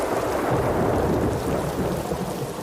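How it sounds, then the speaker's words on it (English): Heavy rain pours down steadily in Toronto, a dense and loud wash of noise with low rumbling underneath, constant and close, with no voices. "it's been raining for 36 hours or so in Toronto"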